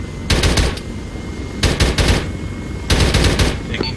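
Machine gun fire in Arma 3 comes in three loud, close bursts of rapid shots, each lasting about half a second, separated by brief pauses.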